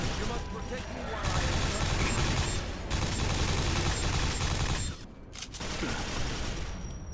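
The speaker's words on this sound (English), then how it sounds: "Nail gun is also like rapid fire projectiles." Rapid, dense bursts of nail gun fire from Quake 4, a loud continuous barrage of projectile shots with brief gaps, layered over game sounds.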